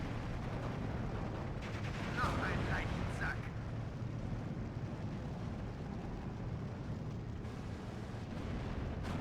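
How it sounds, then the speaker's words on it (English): IS-2 heavy tank gunfire in Steel Division 2, a WWII strategy game battle: distant booming shots and crackling combat over a constant dense rumble, with someone talking throughout. "IS-2 shooting at us from back here"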